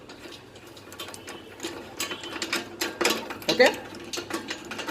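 A size 17 wrench twisting a bolt off a Royal Enfield Bullet exhaust, a series of close metallic clicks and ratcheting scrapes that grow louder, with a brief spoken word near the start.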